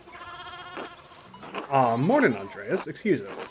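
Sheep bleat in the Pentiment video game, a wavering call followed by quicker broken bleats, heard alongside talking voices.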